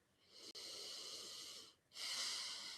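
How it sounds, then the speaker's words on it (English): A big deep breath taken during a tapping exercise, a close, soft airy hiss of inhalation followed by a short pause and a second, stronger breath, with no talk. "Big, deep breath."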